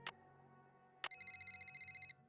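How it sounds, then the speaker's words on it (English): Telephone ringing in a Nancy Drew video game, The Haunted Carousel: a short electronic burst, then a rapid trilling ring of about a dozen quick pulses, clear and alone. "Another phone call."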